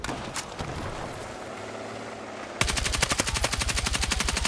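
Gunfire from the video game Battlefield 6: muffled ambient game noise at first, then a sudden burst of rapid, sustained automatic fire, loud and close, with steady rhythmic shots continuing to the end.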